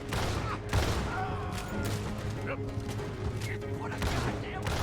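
Rapid gunfire in a Red Dead Redemption 2 shootout, a dense run of sharp shots and bursts over a low background rumble, with occasional voices mixed in.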